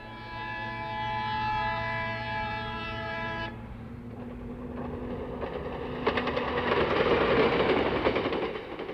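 Train carrying expelled Ugandan Asians at a station in Kenya, a long sustained horn blast first, then a rumbling, clattering run of carriages that grows louder and closer, heard alone.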